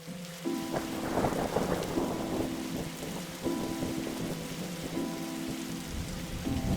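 Thunderstorm ambience in The Darkside Detective: steady rain and rolling thunder with wind, continuous and fairly loud, with repeating tonal game music pulses layered over the storm throughout.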